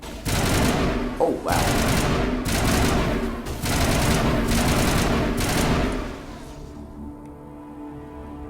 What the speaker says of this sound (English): Jenkins is about to get shot. There he goes.